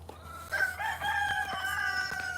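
Chickens squabble on a rare fruit farm, with a rooster-like crow and agitated clucking calls rising over faint background noise and a few sharp scuffling bursts.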